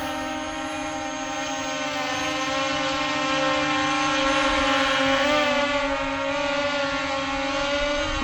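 A LYZRC L200 Pro Max budget GPS camera drone flies overhead, a steady loud high-pitched motor and propeller whine with a wavering tone that holds throughout.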